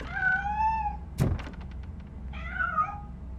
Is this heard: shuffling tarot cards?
no